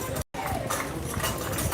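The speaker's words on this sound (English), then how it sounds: "Look at that pair of horses" A pair of horses clip-clop at the Woodsmen's Field Days in Boonville, New York, their hooves faint under a noisy outdoor crowd and nearby voices.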